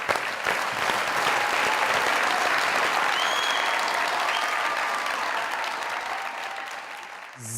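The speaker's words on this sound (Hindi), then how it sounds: "जोरदार ताली।" Loud, sustained applause from a studio audience at a Pakistani comedy talk show, a dense wash of clapping that holds steady for several seconds before tapering slightly at the end.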